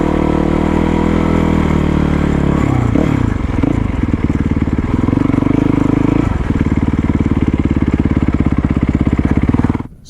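A Yamaha WR450 dual sport motorcycle rides a desert trail, its engine droning loud and steady throughout with a few shifts in pitch as it changes speed, then cutting off abruptly at the end.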